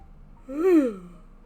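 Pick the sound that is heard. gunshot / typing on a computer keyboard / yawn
yawn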